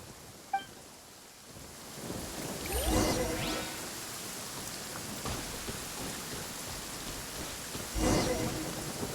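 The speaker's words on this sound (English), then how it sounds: "Lightning storm!" Steady rain pours in a video game thunderstorm, with two louder rumbling crashes of thunder rolling through the downpour a few seconds apart; no one speaks over it.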